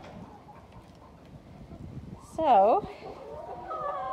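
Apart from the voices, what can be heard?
flock of laying hens clucking in coop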